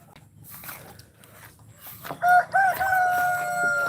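Farm chickens call out over quiet background noise, rising into a loud, drawn-out tonal call in the second half with a couple of sharp squawks just before it.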